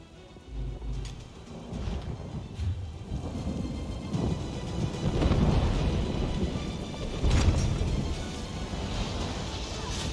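A stormy outdoor scene in The Elder Scrolls Online with steady rain hissing and rolling thunder that swells and booms, the loudest cracks landing around the middle and late parts, and no talk over it.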